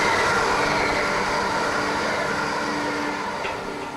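A train runs along the Prestwick railway line through Troon beside the links golf course, a steady loud rumble of carriages on rails that eases slightly toward the end, with no talk.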